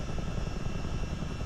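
A CH-47D Chinook tandem-rotor helicopter in Microsoft Flight Simulator gives a steady, loud, continuous rotor and engine drone, a dense low rumble with no break or change.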